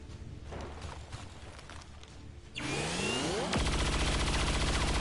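A single XCOM 2 soldier's shot in the video game: a hard burst with a rising, sweeping tone, followed by a sustained, loud buzzing mechanical drone, with no talk over it.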